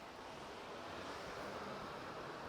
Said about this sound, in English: Hear the waves breaking in the background.